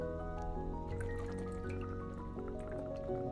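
Water being drunk close up: soft liquid trickling and small wet swallowing sounds, quiet and brief, over a faint continuous background.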